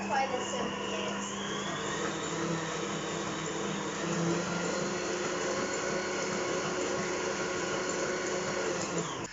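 A steady whirring electric mixer beats eggs for a buttermilk pie, a continuous motor hum running evenly from start to finish with no voices.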